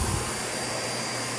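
A Miele U1 upright vacuum cleaner running on its loudest setting gives a steady, loud, continuous motor roar and airflow hiss close by, with no voices.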